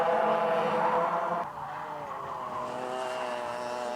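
Racing karts at a championship round at GYG Karting whine through a hairpin corner, engines buzzing loudly, then dipping as they brake and squeal through the turn, the tone steady and nearby.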